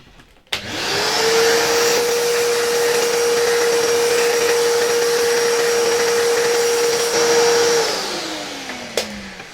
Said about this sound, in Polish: może jeszcze przyniosę na chwilkę odkurzacz i to odkurzę tutaj od tej strony